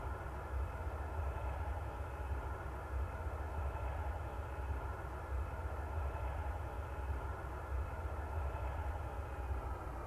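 Steady low engine rumble of a Boeing 737-800 applying light thrust to begin taxiing in a flight simulator game, a constant faint drone with no voices.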